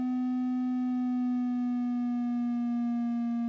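A steady synthesized waveform tone generated in a web browser, rich in evenly spaced harmonics, holding a clear buzzy pitch that creeps slightly upward, sounding alone and continuous throughout.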